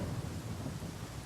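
Low, steady rumble of thunder with a rain-like wash, a faint ongoing storm ambience used as a sound effect during a Pathfinder tabletop game session, with no voices.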